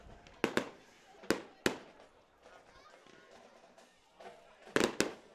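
Fireworks going off at a 2023 homecoming high school football game, with several sharp loud bangs in irregular bursts over crowd murmur and crackle, plus some faint talk.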